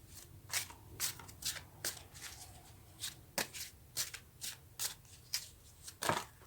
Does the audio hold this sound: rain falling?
no